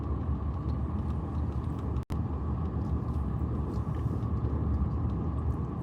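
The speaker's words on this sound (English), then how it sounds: "So we are just taking a quick drive around a cemetery here" Car driving slowly around a cemetery, heard from inside as a steady low engine and road rumble with one brief dropout, no talk.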